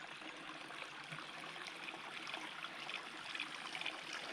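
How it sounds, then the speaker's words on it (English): A small feeder creek flows steadily along a gully beside the Gisborne–Bacchus Marsh Road, giving a constant close trickle and babble with no pauses. "it's just a little feeder creek that doesn't go anywhere near the main river"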